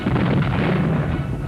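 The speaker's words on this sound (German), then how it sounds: "Leichte und schwere Flak bekämpfen Panzer und aufgesessene Infanterie." Light and heavy anti-aircraft guns fire in 1944 wartime newsreel footage, a dense, rumbling barrage of continuous muffled booms that fills the short stretch without pause.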